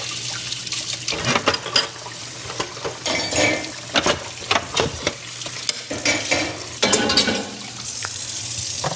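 Dishes being washed at a kitchen sink, with running water and repeated clinks and scrapes of plates and utensils at an uneven rhythm, close by and moderately loud, with no talking.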